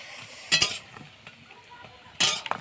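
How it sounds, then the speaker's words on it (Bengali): A papad frying in hot oil on a new clay stove outdoors, two loud bursts of crackling sizzle as it puffs up, with quieter bubbling and faint clinks between them. "আমি গরম গরম পাপড় ভাজি"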